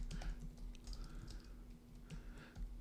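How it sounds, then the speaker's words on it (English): Someone types on a computer keyboard in a rapid, irregular patter of soft clicks, close by and fairly quiet, over a faint electrical hum. "And let's type it in"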